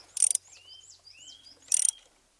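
A ratchet clicks in two short, crisp bursts while tightening a spark plug on a Renault Mégane 1.6 16V, with faint squeaky mechanical noises between them in an otherwise quiet space.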